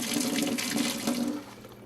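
Tap water runs steadily and close over the back of a Mattel Barbie Catwoman doll's hair as it is wet down, a continuous splashing hiss that thins out near the end.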